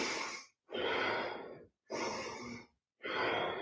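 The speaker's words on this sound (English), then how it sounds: "breathe out." Slow, steady exhalations from a yoga participant, three long breaths out separated by short pauses, close and clearly audible with no talking.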